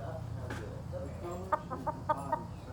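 Hen perched on a person's shoulder, recently removed from her flock for fighting, making a short run of soft, close clucks in a quick uneven rhythm over low background noise.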